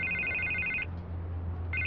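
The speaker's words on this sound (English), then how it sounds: "I can't get the phone to stop ringing." A phone rings in the Batman: The Telltale Series video game, two bursts of an electronic ring separated by a pause, with a low hum underneath.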